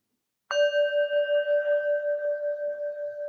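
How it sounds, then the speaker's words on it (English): A meditation bell struck once with a clear tap, then ringing on in a pure, sustained tone that slowly fades over several seconds in an otherwise quiet space. "With each tap of the bell, allow yourself to exhale and let go."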